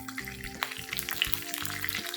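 Curry leaves and cumin seeds crackle and spit in hot oil, a bright sizzling sputter with quick pops over a low steady tone.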